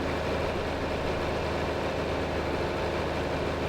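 A tractor engine idles in a farming video game, a steady low rumble holding evenly and close throughout with no voices over it.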